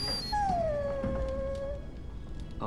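A dog in the game Dragon Age Origins gives a single long, drawn-out high whimper that slowly falls in pitch, alone over a low game background.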